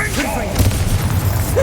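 In Hogwarts Legacy, a Bombarda spell explodes with a deep booming thud, followed by a rumbling tail and a couple of lower bumps. Game audio and a voice run beneath it.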